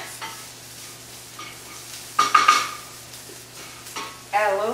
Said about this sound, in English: Cook this until the shallots are a bit translucent